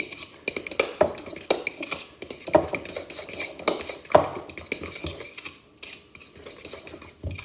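A utensil stirs and scrapes through a wet ranger cookie mixture in a bowl, irregular rhythmic swishes and clinks, close and moderately loud, with no talk.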